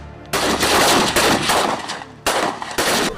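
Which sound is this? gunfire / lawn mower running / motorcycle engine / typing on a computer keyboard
gunfire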